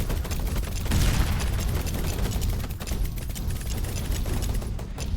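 An ice missiles turret firing in the Emberward tower-defense game, a steady, dense stream of loud shots with a sharper burst near the start.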